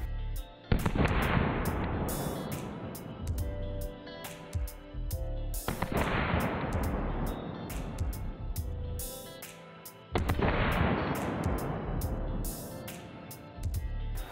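Three sharp pistol shots from a Springfield Hellcat RDP firing different ammunition, each a loud close crack with a ringing decay, spaced roughly every five seconds with no talk.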